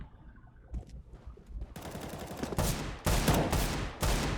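Bursts of automatic gunfire in the game CS:GO during a pro WESG Finals match, several loud volleys in quick succession after a quieter stretch, with no talk over them.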